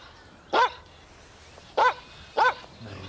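A dog barking three times, sharp and fairly close, with one bark first and then two more in quick succession after a pause, over a quiet background.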